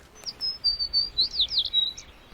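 A tree sparrow chirps in a quick series of high, bright notes, close and clear, with short twittering calls running one after another over a quiet background.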